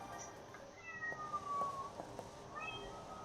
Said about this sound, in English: What are you doing down there, cat?